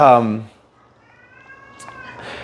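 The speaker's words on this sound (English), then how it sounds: "Oh, there's the kitty finally" A pet cat gives one short meow near the start, followed by quiet room tone with a faint high tone and light rustling.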